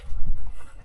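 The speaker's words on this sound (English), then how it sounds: "Dogs are barking here." Dogs pant heavily and snuffle close by at a water source in the desert, a short burst of rough breathing with no talking.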